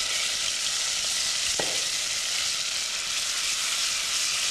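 Ginger garlic paste fries in a pan on browned onions, a steady close sizzle with one brief clink of a spoon, no voices.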